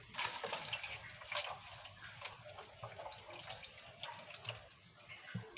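Water pours from a tap for cooking rice, a steady splashing stream with bubbling drips, fairly close and moderately loud, with no voices over it.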